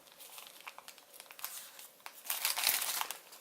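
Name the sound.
paper crinkling while folding an origami cactus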